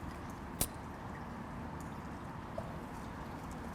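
Water trickles steadily and softly through a funeral gathering, a continuous gentle wash with a couple of faint clicks and no voices.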